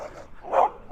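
A dog barking in a residential street, two short, moderately loud barks with a brief pause between them.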